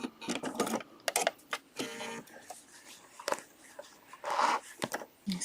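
A sewing machine stitches a quilted feather from the spine outward, with short bursts of rapid mechanical clatter separated by pauses, close and fairly quiet.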